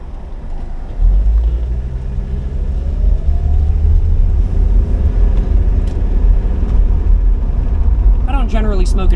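A 1980s diesel Mercedes car drives steadily, its engine a loud, continuous low rumble that rises after a brief quieter start, with a faint whistle climbing over it and some sharper noise near the end.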